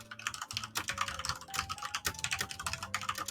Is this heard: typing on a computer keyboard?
yes